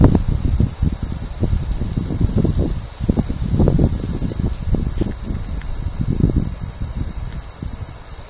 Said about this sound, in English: The wind's picking up.